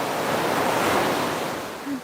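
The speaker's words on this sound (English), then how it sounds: "Check out the beach. We've got some waves going on here." Atlantic surf breaks on a beach, a loud, dense, steady wash of rushing water with wind noise across the whole stretch.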